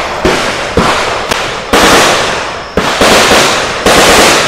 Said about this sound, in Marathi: बंदूक म्हणजे गोळ्यांचा आवाज तिकडूनच येतोय